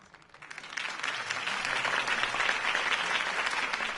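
Applause from a crowd in the video game Batman (Telltale, Episode 1) swells within the first second and continues steadily, a dense wash of clapping with no voices over it.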